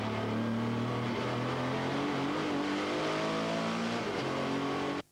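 A Porsche 911 race car engine at a 1998 rally revs hard and continuously, its loud harmonic tones rising and falling through gear changes before cutting off abruptly at the end.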